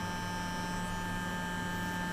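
A Clarisonic Mia facial brush switched on and vibrating rather than spinning, giving a steady faint electric hum with a constant tone throughout, close by and alone with no talking.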